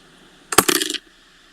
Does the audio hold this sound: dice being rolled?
yes